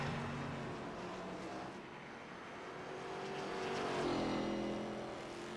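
Race cars circulating at Summit Point during an Elite National Series race, a continuous engine drone that dips briefly and then swells as cars pass nearer, with no voices over it.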